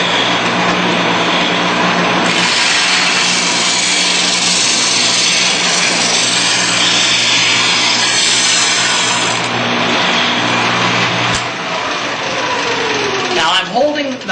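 A Shopsmith thickness sander runs on wood with a loud, continuous whirring roar and a steady abrasive rasp that holds throughout, while a voice talks over it near the end.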